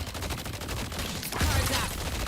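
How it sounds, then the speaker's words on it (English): Rapid gunfire in the Deadlock video game, a dense stream of repeated shots in quick rhythm, growing louder and heavier in the second half, with no talk. "Don't stop firing."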